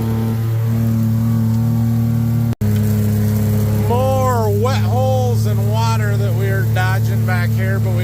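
A vehicle engine drives and turns in a wet, muddy field, with a steady loud hum and drone throughout and a voice talking over it.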